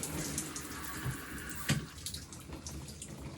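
Shower water running steadily in a bathroom during a hair washing routine, a continuous close hiss and splash that continues to the end of the clip without a clear stop.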